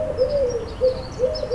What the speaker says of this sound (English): Wood pigeon.